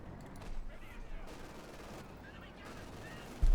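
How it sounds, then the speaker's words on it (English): Light machine gun fire in Company of Heroes 2, a World War II strategy battle, crackles in steady bursts amid a dense, busy mix of gunfire and battlefield noise, with a louder thump at the very end. "Light machine gun is on the right flank."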